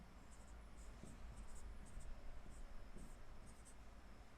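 Faint, scratchy strokes of writing on a board while working through an indices problem, short irregular squeaks and taps over a steady background hiss.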